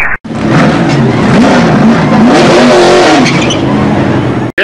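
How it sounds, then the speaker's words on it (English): Race car engines rev loudly and continuously, with rising and falling pitch sweeps as throttles open and close, a dense mechanical roar filling the whole stretch before cutting off abruptly. "Gentlemen, start your engine."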